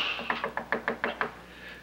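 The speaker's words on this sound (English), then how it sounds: "That door is made of excellent wood, Miss Pomeroy, for someone to knock on." Knuckles rap on a wooden door seven times in a quick, steady run of sharp knocks. A steady hum from an old sitcom soundtrack sits underneath.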